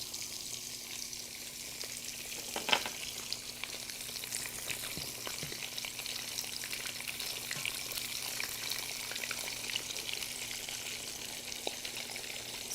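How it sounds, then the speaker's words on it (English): Pomfret fish pan frying in hot oil in a Bangladeshi home kitchen, a steady dense sizzle running throughout with a few brief crackles and pops and no talking. "So I'm going to put the fish in."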